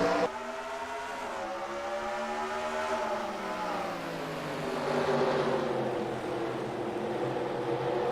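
Pack of video-game stock cars roaring off the green flag at Chicago Motor Speedway, a dense, loud blend of engines with harmonic whines rising and falling together as the field fans out three wide.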